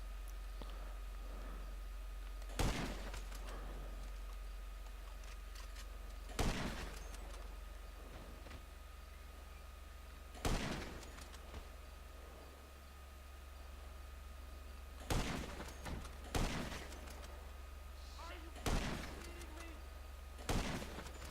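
Gunfire in GTA Online, with sharp single shots and short double bursts spaced several seconds apart over a steady hiss of background noise, moderately loud and with no talking.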